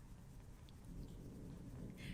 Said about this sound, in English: the thunder just gets me so excited